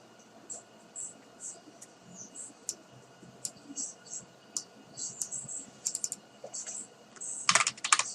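Typing on a computer keyboard, heard as a close run of quick, uneven key clicks that comes in bursts and speeds up into a dense clatter near the end, with a few mouse clicks and no talking.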